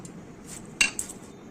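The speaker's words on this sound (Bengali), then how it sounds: "এরপর আমি পিস পিস করে কেটে নিচ্ছি।" A knife cuts raw jackfruit into pieces on a board, producing one sharp metallic chop followed by a lighter knock, brief and close, with no voices.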